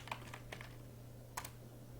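A few sparse keystrokes tap on a computer keyboard while typing into a Google Sheets script editor, faint and close over a low electrical hum.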